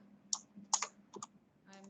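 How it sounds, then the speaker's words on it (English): Keys click on a computer keyboard while someone types into a Word document, faint and irregular, in a few light bursts over a low steady hum. "I'm just typing"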